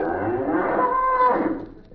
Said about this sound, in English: Oh, look, there's a cow.